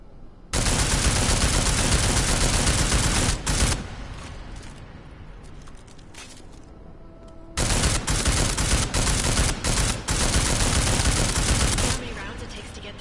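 Rapid automatic gunfire in Deus Ex: Mankind Divided blasts loud and sustained in two long bursts, with a quieter stretch of fainter shots and clatter between them.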